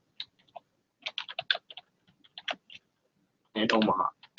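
Keys tapped on a computer keyboard while a search is typed into Google, quick irregular clicks in short bursts, quiet and close, with a louder burst of noise near the end.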